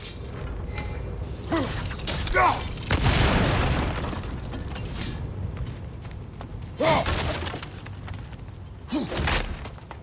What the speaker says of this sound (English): Bet a spark from your blades would cause quite a boom.